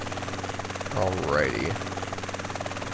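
A helicopter flying in Grand Theft Auto: San Andreas, a constant pulsing rotor drone with rhythmic low throb, while someone speaks briefly over it.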